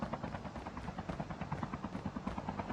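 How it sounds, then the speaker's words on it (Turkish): A helicopter approaches in the Call of Duty Mobile video game, its rotor making a steady rhythmic thumping with fast regular pulses at moderate loudness, and no talking. "Helikopter mi geliyor?"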